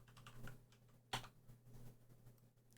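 Typing on a computer keyboard, soft irregular clicks with one sharper keystroke standing out, close and quiet against a steady low hum.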